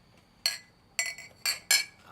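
Glasses clinking together in a toast, four bright, sharp chimes spaced roughly half a second apart, close and clear over faint background.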